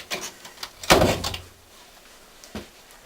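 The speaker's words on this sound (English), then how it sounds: "Let me shut the door." An interior door is pushed shut with a firm thud and rattle near the one-second mark, preceded by light shuffling and followed by a softer knock, close by in a quiet room.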